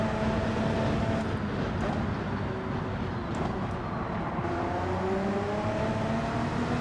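Audi race car in Gran Turismo 7 holding a steady, droning engine note through the whole stretch, with rising and falling pitch as it's pushed hard on track.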